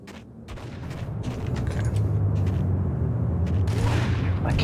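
Gunfire in the Max Payne video game: a dense, continuous stretch of shots and booming impacts, loud and layered over steady low rumbling, with a voice intermittently heard beneath the chaos.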